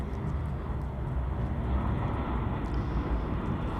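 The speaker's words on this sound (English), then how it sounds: "There's the plane going right overhead." Airplane passing overhead at a cricket ground, a continuous, fairly loud low rumbling drone that holds steady throughout with no talk over it.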